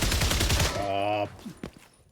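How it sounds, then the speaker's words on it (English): Burst of rapid gunfire from a video game, dense and loud, cutting off abruptly as a voice speaks over the tail end. "No idea what I was shooting at just then."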